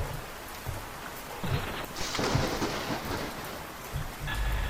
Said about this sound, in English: One more lightning blast, eh?